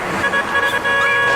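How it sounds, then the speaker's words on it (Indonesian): A car passing close by in a parking lot, nearly hitting someone, with a short horn toot and road noise over a steady engine hum, fairly loud and near. "tiba-tiba ada sebuah mobil yang datang dan hampir saja menabraknya"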